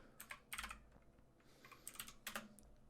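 Computer keyboard keys being typed on in quick, uneven bursts, close and fairly quiet, with short pauses between flurries of clicks.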